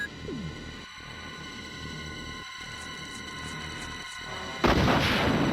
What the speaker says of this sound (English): I want to experiment with the infinite rocket launcher.